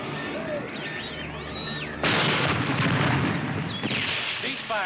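Artillery gunfire during a military firing exercise: one sudden loud blast lands partway through and swells into a sustained, roaring rumble, with thin whistling sweeps heard before it.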